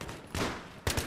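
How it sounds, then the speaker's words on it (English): SCAR H battle rifle firing in the video game Battlefield 3 on the Grand Bazaar map: dense, loud gunfire in two heavy clusters, with a brief lull between them and a final run of sharp shots. "The SCAR H is probably one of my favorite guns in this game"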